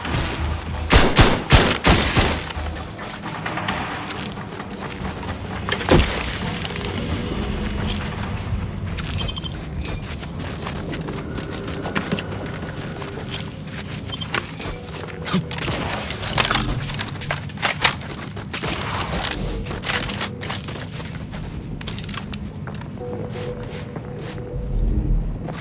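Gunfire in The Outer Worlds 2: dense bursts of rapid shots and booms, clustered early and scattered throughout, with crackling impacts and movement in between during a frantic firefight.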